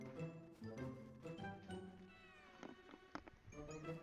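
A cat in the video game My Time at Sandrock meows several times, drawn-out wavering cries among clattering game sounds and light jingles, fairly quiet, with a voice briefly heard.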